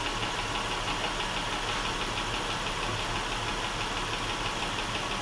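A car engine idles steadily in neutral with the parking brake set, a continuous close, even rumble with a faint knocking texture and no voices.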